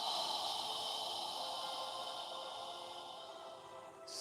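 Slow, deep exhale during a yoga session, breathed out like fogging a mirror: a soft, steady, airy rush of breath, close and faint, lasting several seconds.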